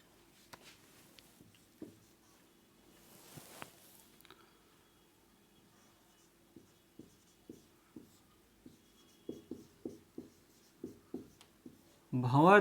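Chalk or marker taps and scratches on a classroom board during a physics lesson on eddy currents, arriving as a quiet series of short strokes that quicken toward the end, with brief speech at the close.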